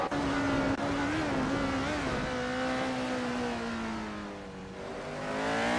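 A March 751 race car engine roars in a racing video game, a steady, loud, buzzing drone whose pitch sags and rises as the car works through a lap, with no talking.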